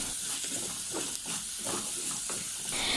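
Onions sauté in a pan with curry leaves and green chilies, giving a continuous hissing sizzle with faint rhythmic scraping from stirring, close and steady, as part of a fish moly recipe.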